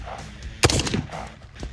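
A single sharp carbine shot cracks loud and close at an outdoor shooting range, fired from a kneeling position, followed by a short echoing tail that fades into quiet background.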